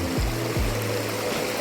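Creek water runs steadily through a gold prospecting sluice box in Canyon Creek, Trinity County, California, a continuous broadband rush with a couple of low knocks, close and alone.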